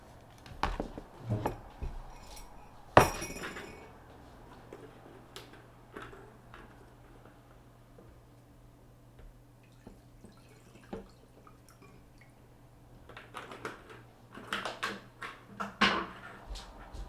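Someone gets a glass of water indoors with faint, scattered clicks, knocks and drips, a louder clack near the start and a busier flurry of handling sounds toward the end over a low steady hum.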